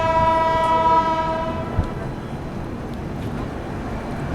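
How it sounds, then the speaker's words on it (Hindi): The Poorva Express stands halted at Buxar station. A sustained horn sounds loudly at the start and fades, leaving a busy platform rumble with a single sharp clank and a murmur of background voices. "हमारी ट्रेन का यहाँ पर सिर्फ 2 मिनट का हॉल्ट है।"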